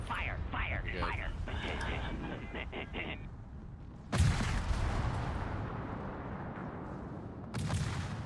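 Naval guns firing in the World of Warships video game, two heavy booming salvos a few seconds apart over a steady rumbling game soundscape, with a voice talking quietly in the background.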